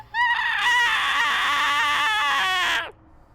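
A human voice imitates an angry creature's strained screech, a single wavering, warbling shriek lasting nearly three seconds, close and fairly loud before cutting off.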